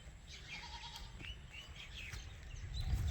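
A tethered goat bleats in a village yard after rain, a few soft wavering calls over steady outdoor background noise, with faint birds chirping nearby.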